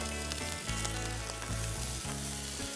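A paste of onion, garlic and green chili sizzles and fries in a hot pan, a loud, continuous crackling hiss that holds steady throughout, with no voices.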